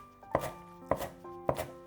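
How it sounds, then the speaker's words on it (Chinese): A kitchen knife chops green onions into small scallion pieces on a cutting board, three crisp, evenly spaced thuds close up with no voices. "给它切成葱花"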